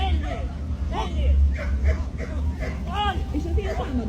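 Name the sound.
dog barking during protection dog training demo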